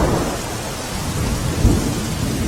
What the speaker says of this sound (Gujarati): રાજકોટના ધોરાજી ઉપલેટામાં ધોધમાર વરસાદ પડી રહ્યો છે